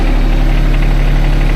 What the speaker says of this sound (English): I thought I'd take a chance of picking it up with a tractor here on the side